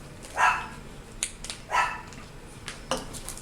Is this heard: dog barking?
yes